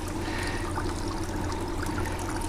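Rinse water from a Maytag wringer washer pouring back into its tub, a steady continuous splashing gush at close range with no talk.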